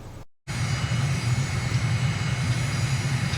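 A simulated airliner taking off from Bandaranaike Airport near Colombo, Sri Lanka, in Microsoft Flight Simulator, a loud, steady engine roar that starts after a brief dropout and holds constant, with no talk.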